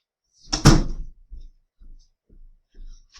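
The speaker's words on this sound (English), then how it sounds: "Wait, let me close the door." A door closes nearby with a single solid thunk, followed by a few faint, quieter knocks and rattles as it settles.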